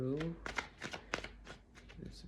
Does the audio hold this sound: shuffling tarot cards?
yes